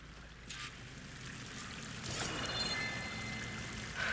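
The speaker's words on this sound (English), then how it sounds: "That waterfall must be coming from somewhere." A waterfall in the video game Horizon Forbidden West gives a steady, broad rush of falling water. The wash holds constant with a slight swell partway through, and a few faint tonal game sounds sit above it.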